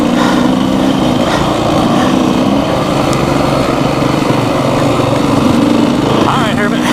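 A 2019 Beta 390 RR-S dirt bike engine buzzes steadily and loudly, running near with a continuous raspy drone and a rising rev at the end, while a rider talks over it.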